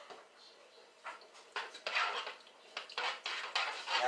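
Lemon juice being mixed in a bowl with a utensil, giving a series of clinking, scraping strokes against the bowl that grow louder and more rhythmic toward the end, up close and with no talking.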